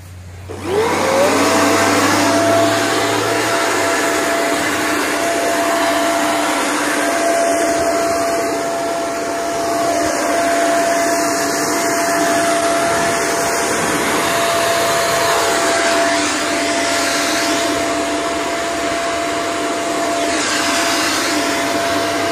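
A blower dries a freshly washed 2001 Acura Integra GS-R outdoors, spinning up after a click into a loud, steady high-pitched rushing whine that holds for about twenty seconds, with no speech.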